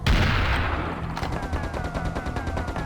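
Rapid automatic gunfire from the Serious Sam: The First Encounter shooter game, a dense, loud stream of repeating shots firing steadily at a fast even rhythm, with a heavy blast at the start and no talking over it.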